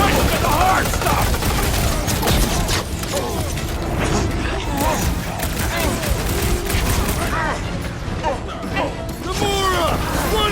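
Rapid bursts of gunfire and mechanical clatter from combat in the Marvel's Guardians of the Galaxy video game, loud and dense throughout, layered under frequent character voices shouting.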